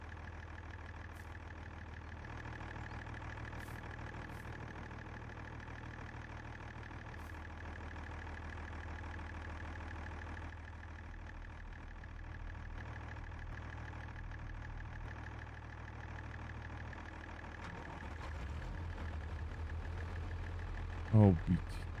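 A new Setor Crystal tractor idles in the Farming Simulator video game with a steady, low, droning engine hum that continues without a break, and a couple of brief clicks near the end.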